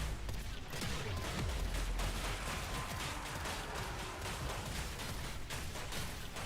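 Sustained rapid gunfire from Warframe, shooting at a speaker target in a CODA encounter, a dense continuous volley of loud shots with no talking.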